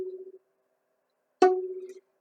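A plucked D string with the middle finger on the second tape: the tail of one note fades out, then after a pause a single close pluck rings and decays.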